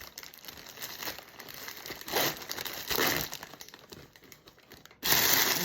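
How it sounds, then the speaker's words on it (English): A cellophane gift bag crinkles and rustles in bursts while being gathered and tied at the top with a pipe cleaner, close and fairly soft, with a louder crackling burst at the end. "I take the cellophane bag with my pipe cleaner, and I put it around, tie it to the top."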